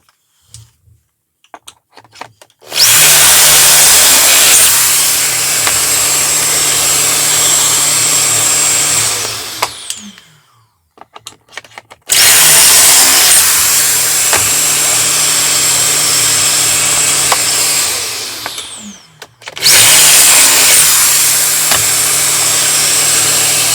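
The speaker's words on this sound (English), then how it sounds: "And now we need to get pocket holing." A power drill whines loudly in two long bursts separated by a pause, then a third starts, drilling pocket holes into wooden shelf parts in a workshop, with short clicks between runs.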